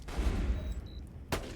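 Sustained burst of gunfire from a Borderlands 2 firefight, with Gaige the Mechromancer shooting at an enemy, a dense rumbling volley that fades briefly before one more sharp shot cracks out near the end.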